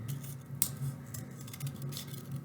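Scissors snip through paper while a small fish shape is cut out for a frog and pond craft game, with soft, close, irregular cutting sounds and one sharper snip over a steady low hum.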